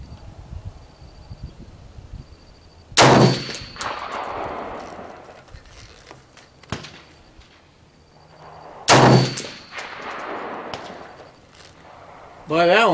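Two loud, sharp rifle shots from a big-bore scoped rifle, spaced about six seconds apart, each with a ringing echo trailing off in an outdoor setting, with faint rustling and ambient noise between them.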